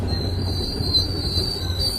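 Train passing close by with wheels squealing in a steady high-pitched whine over a continuous low rumble of the rail cars, loud and unbroken throughout.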